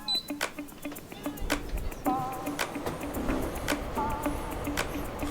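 A newly installed mini split air conditioner starting up inside a converted bus, giving short electronic beeps over a steady run of close, sharp ticking clicks, with no voices.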